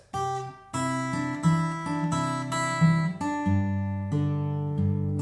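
Plucked electric guitar G notes, played on the B string 3rd fret, ring out one after another, clear and sustained, each new note struck cleanly over the fading one, with no voices.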